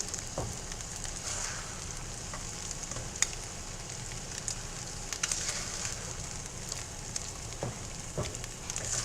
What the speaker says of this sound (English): Eggs are a finicky bunch, especially when you're cooking a bunch of them at the same time.